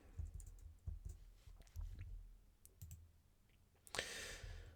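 Sharp, quiet clicks of a computer mouse while navigating aviation NOTAM pre-flight briefing pages, several scattered taps spread across the stretch, with a brighter hiss near the end.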